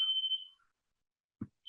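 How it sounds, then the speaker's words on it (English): A smoke alarm in an apartment chirps with a piercing, high-pitched tone that lasts about half a second, followed by silence, a short low thump, and the start of another beep. "my apartment has been going through random fire alarms going off when no one is cooking"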